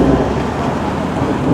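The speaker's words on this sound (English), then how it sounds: "a thunderstorm was upon us" Steady heavy rain pours down during a thunderstorm at a railway station, with a deep rumble of thunder rolling continuously beneath the hiss, loud and close with no voices.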